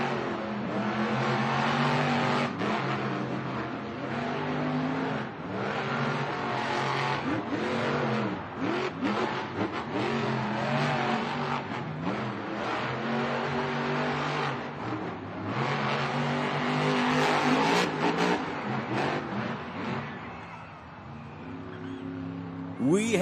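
Monster trucks race side by side in an El Paso stadium, their big engines roaring and revving in repeated surging waves for over twenty seconds, with loud crowd and arena noise beneath.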